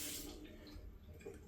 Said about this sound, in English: This is a hand washing station with flowing water